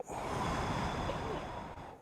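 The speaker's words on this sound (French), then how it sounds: "Et alors, on fait une respiration." A woman takes one long, audible breath after a counted lead-in, a steady airy inhale close to the microphone lasting about two seconds.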